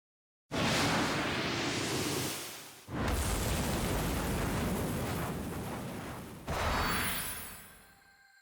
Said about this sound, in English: Entei's fiery blast made the Clear Wing flare